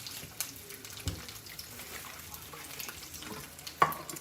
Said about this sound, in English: we have our crab cakes cooking, and they are golden brown on one side